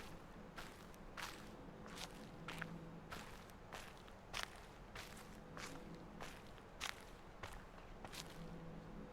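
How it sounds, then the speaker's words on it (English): Footsteps in The Witness video game, a steady series of soft, crisp steps at walking pace over a low ambient hum, fairly quiet and without speech. "Sound of the footsteps."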